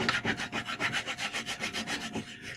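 Ski wax is rubbed across the grain of a ski base, crayon-style, in quick repeated rasping strokes at an even rhythm, close and dry, with no talk.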